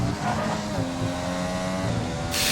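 Racing car engine from a racing video game, a Red Bull car on track, droning steadily with shifting harmonic pitch as it approaches, a brief bright hiss at the end.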